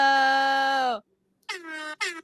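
An air horn sound effect blasts one long loud tone, then after a short gap two shorter honks follow, dropped in close and clear with no talking over it.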